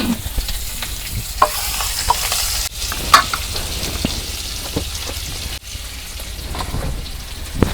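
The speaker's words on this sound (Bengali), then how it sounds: "তেল গরম হয়েছে এখন আমি রসুন দিয়ে বাগার দিব" Garlic tempering in hot mustard oil for a village-style sour dal with raw mango, a steady close crackling sizzle with stirring scrapes and a few sharper pops.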